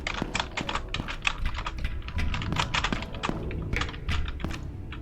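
Close, rapid typing on a computer keyboard during game controls, with quick clusters of clicky keystrokes and occasional heavier thumps of larger keys, steady and fairly loud with no talk.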